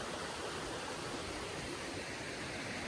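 A wilderness creek runs in a constant, hissing wash of moving water, steady and unbroken throughout, soft in level and free of talk.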